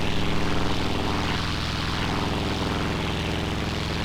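A Vought F4U Corsair's piston propeller engine roars steadily at full takeoff power in Flight Simulator X, a loud continuous drone with a pulsing low throb and no talk.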